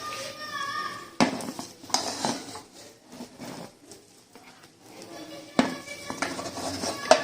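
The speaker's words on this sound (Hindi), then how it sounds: "अब मैं इसको डिश आउट कर दूंगी।" Mater pulao, white rice with peas, being served from a pot with a metal spoon: scraping and clinking of utensil against the pot, several louder clanks at intervals, close and fairly loud, with some quiet background sound between.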